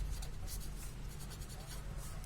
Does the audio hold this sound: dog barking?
no